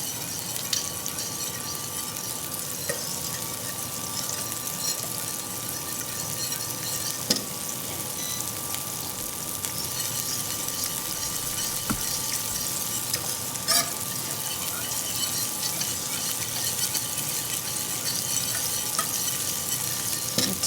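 Shrimp cooking in melting butter in a pan, a steady close sizzle and bubbling frying sound with occasional small clicks and stirs, continuous and unvoiced.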